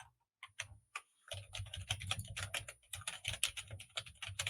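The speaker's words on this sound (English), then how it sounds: "This is a mechanical keyboard as well." Someone types on a cheap $18 mechanical gaming keyboard, producing a close, crisp run of clacking keystrokes that starts sparse and picks up into a fast, steady patter, with no voice over it.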